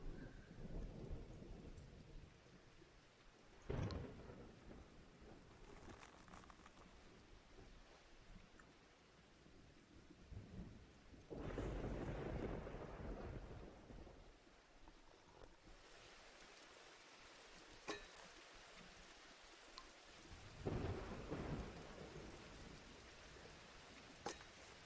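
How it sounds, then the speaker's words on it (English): A steady, rushing downpour fills the stormy setting of the video game Diluvian Winds Prologue. Several deep thunder rolls and sharper cracks break through the rain, some near and booming, others more distant. "The storm rages"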